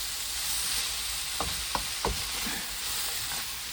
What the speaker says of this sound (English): So you need to be cooking this on a really high heat.